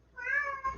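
A house cat gives a single drawn-out meow, close and clear, with a slight upturn at the end and no voices over it.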